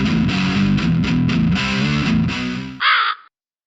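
A distorted, processed crow cawing as a channel intro jingle: a dense harsh stretch of repeated caws with effects, then a brief higher call before cutting to silence, loud and with no talk.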